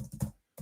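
Three short bursts of clicking on a computer keyboard, close and fairly clear, with a brief silent gap before a final burst.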